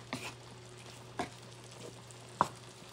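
Sardines in tomato sauce sizzle softly in a pan, a faint steady hiss broken by a few sharp clicks and stirring taps.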